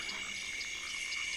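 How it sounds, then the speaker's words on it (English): Frogs and grasshoppers call together in a night jungle, a dense chorus of trilling insects with repeated croaks layered over it, steady and moderately faint. "Frogs. Grasshoppers."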